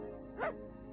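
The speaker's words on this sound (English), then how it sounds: "do the dog noises sound like they're 20 feet away from the mic compared to the rest of the dialogue" A single short dog bark in a Dingo Pictures cartoon, a thin, distant-sounding yip over a faint steady background hum.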